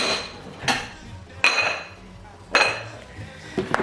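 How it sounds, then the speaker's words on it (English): Kitchen dishware clinks as bread is set on a plate: three or four sharp ceramic knocks spaced about a second apart, close and clear, with light handling noise between them. "So I'm gonna put my bread on a plate."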